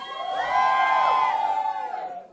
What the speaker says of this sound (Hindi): जो भी नंबर 1 के लिए बोलना चाहता है, पहले जोर से चिल्ला दो।